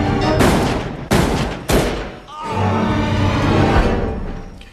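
Loud, close gunshots ring out in a film scene: three sharp cracks in quick succession, each leaving a decaying echo, then a longer rumbling boom that fades away.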